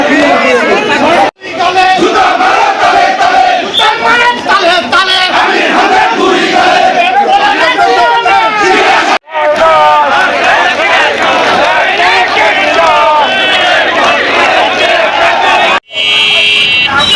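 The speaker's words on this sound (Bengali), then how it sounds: "এ সময় বিক্ষোভকারীরা আমির হামজার বিরুদ্ধে বিভিন্ন স্লোগান দিয়ে বিক্ষুব্ধ নেতাকর্মীরা" Angry crowd of BNP activists in Ishwardi chanting slogans against Amir Hamza during a protest rally; loud, continuous massed voices close by, with a few brief breaks and a buzzing tone near the end.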